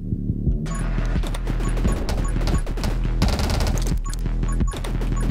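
Fan fire bullets in 20 Minutes Till Dawn, a sustained flurry of rapid shots and impacts layered over a low droning game soundtrack, loud and continuous after a brief quieter start, with no voices.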